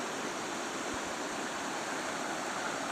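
A river rushes through a gorge at Russell Fork in the Breaks Interstate Park, a steady, unbroken wash of water noise that stays even and moderately faint throughout, with no voices.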